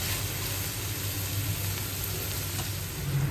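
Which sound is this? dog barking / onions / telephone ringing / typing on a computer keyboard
onions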